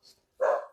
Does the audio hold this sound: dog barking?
yes